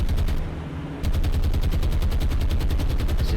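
Naval anti-aircraft guns hammer away in the warship game War on the Sea, a loud, steady, fast-paced barrage of shots with a brief dip at the start before resuming at full intensity.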